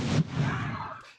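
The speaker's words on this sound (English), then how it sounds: "Crowds of teens firing off fireworks" Fireworks set off by crowds of teens at a Fourth of July pool party in Spanish Lake, with a loud pop or burst at the start followed by noisy crackling rumble that fades over about a second.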